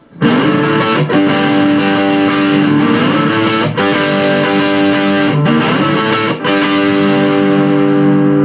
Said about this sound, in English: it's nice sounding to put that little slide back into the 9th fret